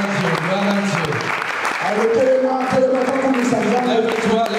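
A church congregation acclaiming and applauding God during worship, a dense wash of clapping and cheering voices with singing and a voice over it, loud and continuous.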